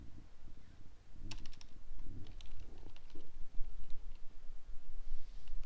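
Irregular keystrokes clatter on a computer keyboard, some in quick bursts and some spaced apart, over a low background rumble, close and fairly clear.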